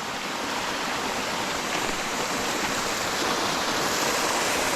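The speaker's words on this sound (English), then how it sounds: "it is an awesome little waterfall" A small waterfall running heavy with winter flow amid icicles near Courthouse Rock roars in a steady, dense rush of falling water, loud and continuous throughout with no voices.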